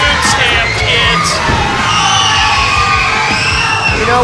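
A wrestling crowd at a professional wrestling show roars with sustained yelling, whoops and jeers, loud and continuous throughout with no clear individual voices standing out.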